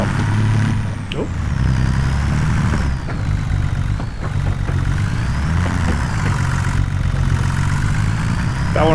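A tractor engine runs steadily in Farming Simulator 25, a close, even low mechanical drone with a slight rise and fall in pitch and a few faint knocks and clicks over it.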